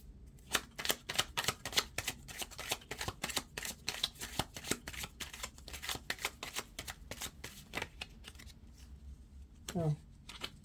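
A deck of tarot cards being shuffled by hand, a close rapid series of crisp riffling clicks and flaps that continue steadily for several seconds before a short spoken remark near the end.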